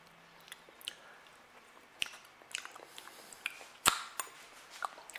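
Someone quietly eats homemade potato soup, with soft, wet chewing and bites, small squishes and a few sharp clicks scattered irregularly, close to the mic with no talking.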